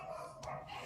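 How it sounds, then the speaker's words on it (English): Dogs barking in another room, a couple of quick muffled barks, faint and distant. "My dogs are going absolutely fucking berserk"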